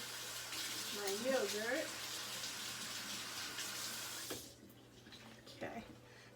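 Tap water runs steadily into a kitchen sink as a utensil is rinsed during shrimp salad wrap preparation, flowing for about four seconds before stopping, with someone talking over the stream.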